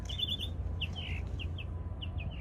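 Bird chirping outdoors on a morning at Disney World, a series of short high tweets repeating in quick clusters over a steady low background hum.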